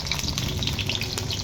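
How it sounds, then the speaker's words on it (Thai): Hot dogs frying in hot oil in a home kitchen, a steady dense crackling sizzle with bright spitting pops throughout, close and continuous with no talking. "ทอดฮอทดอกแล้วพี่น้องทอดฮอทดอก"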